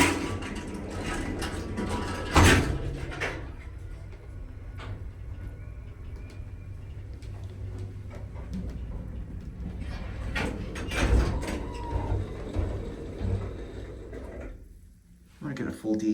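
A vintage 1955 Otis traction elevator starts upward with clunks of its doors and machinery, followed by a steady low mechanical hum and occasional thumps under someone talking.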